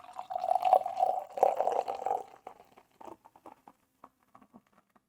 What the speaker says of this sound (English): You know it's going to be all foam because of the way I'm pouring this